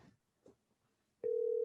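A phone call connects and a steady ringback tone starts after a moment of faint rustling, holding loud and continuous through the remainder.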